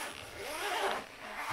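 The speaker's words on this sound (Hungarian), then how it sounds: "Természetesen van egy cipzáros oldal" A zipper on the carry bag of a SANFOU 100W solar panel is pulled open in one steady, fairly quiet rasping run lasting just over a second, with no talk.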